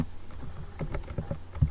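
Someone types words on a computer keyboard, a handful of separate soft key taps landing irregularly, close by over a faint room hiss.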